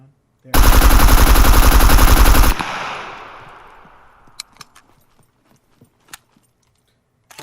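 A continuous two-second automatic rifle burst fires at a target in the video game Scum, loud and close, its rapid shots ending in a long decaying echo, followed by scattered faint clicks and clinks.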